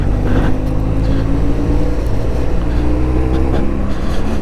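A BMW F700GS motorcycle ridden in second gear on an Alpine road, its engine holding a steady, loud drone with wind rush throughout.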